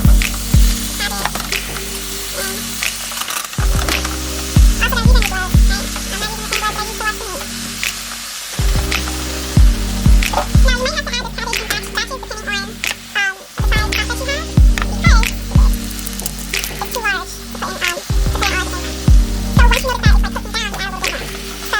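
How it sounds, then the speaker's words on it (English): Washed cabbage hits a hot pan with oxtail, sizzling and frying steadily with repeated bursts of clatter and stirring throughout, with background music playing alongside. "you're going to take your washed cabbage and you're going to place it in the pan"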